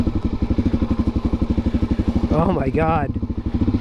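A Suzuki DRZ 400 dirt bike engine runs close by with a fast, steady thumping pulse, and a voice briefly exclaims over it.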